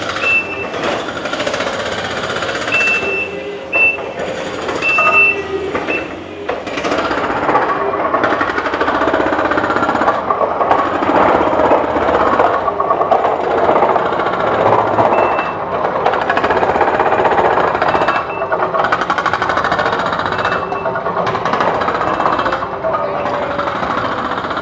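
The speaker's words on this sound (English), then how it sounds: "it's really noisy here because of all the construction noise" Jackhammer pounding at a construction site, a loud, continuous rapid hammering with steady mechanical clatter and occasional high beeps, running throughout without pause.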